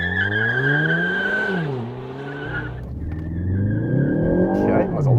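2020 Ford Focus ST launching hard with wheel slip, its engine revving loud and close with rising and falling pitch as it shifts up, and faint tire squeal mixed in.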